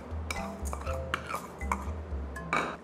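Pork from a native pig is stirred with black pepper, sugar and rock salt in a metal bowl, producing irregular clinks, scrapes and knocks of utensil against the container, close by with no talking.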